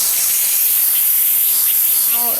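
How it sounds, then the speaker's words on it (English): Steam blasts from the pressure release valve of an Instant Pot cooking balsamic beef after the valve is switched to venting. It is a loud, close, continuous hiss with no break, and a voice cuts in briefly at the end. "We're gonna move it over to venting, and all the steam is gonna shoot out the top."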